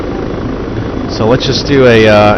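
Helicopter flying in the ARMA 3 game, a continuous low rotor drone that swells louder partway through, with someone talking over it.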